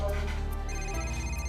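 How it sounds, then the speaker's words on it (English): An early-morning telephone rings steadily and loudly in a home, its electronic bell tone continuous and close throughout the short stretch. "When the phone rings this early, it's never good news."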